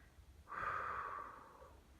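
A single deep breath drawn in over about a second, close and soft, rising then fading into quiet room tone, with no talking.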